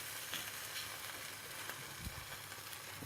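A fish fillet, just flipped and finishing on its second side, fries in a pan for a soy sauce and ginger dish. It gives off a steady, soft, close sizzling hiss with faint crackles and no talking.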